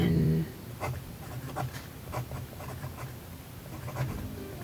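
An Esterbrook Estie Tortoise fountain pen with a Journaler nib writes in non-cursive strokes on paper, making a steady close scratching with short rhythmic strokes and brief pauses.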